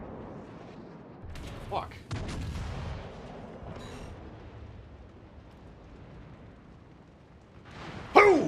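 Warship naval guns firing in World of Warships, several deep booms and blasts spread across a rumbling battle backdrop, with a sharp loud impact near the end and a voice briefly speaking.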